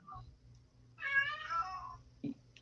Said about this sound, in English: Oh, you guys hear Ringo the cat?